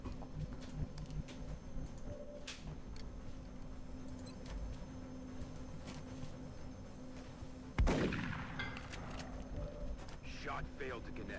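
A single gunshot in the turn-based strategy game XCOM Long War rings out sharply partway through, standing out against a steady game soundtrack and a talking voice, with a brief decaying tail afterward.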